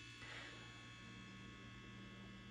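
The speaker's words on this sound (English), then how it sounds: "My fridge just turned on." A home refrigerator's compressor running with a steady, faint electrical hum, continuous and unchanging throughout.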